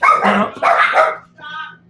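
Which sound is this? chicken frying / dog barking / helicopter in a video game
dog barking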